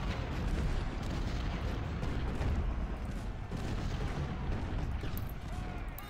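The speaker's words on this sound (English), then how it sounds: "These are howitzers." Howitzers in the Civil War strategy game Ultimate General: Civil War booming in a steady, dense roll of distant artillery fire and rumbling blasts, loud and continuous throughout with no distinct pauses.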